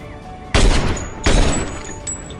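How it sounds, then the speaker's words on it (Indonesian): Two heavy gunshot blasts ring out about three-quarters of a second apart in a sniper duel between two women in a war film, each a loud sharp crack followed by a decaying echoing tail. "Baku tembak pun terjadi di antara dua wanita itu"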